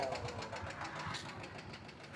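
A motorcycle engine knocks and rattles with metal grinding on metal, a rapid, even ticking clatter at low level, running continuously without speech.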